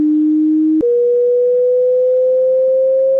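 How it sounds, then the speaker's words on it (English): Steady electronic sine tone, low at first, then stepping up after a brief click and gliding slowly higher in pitch, alone and clear with no other sounds. "you start to hear a very low tone. And as it goes up, the frequency gets higher"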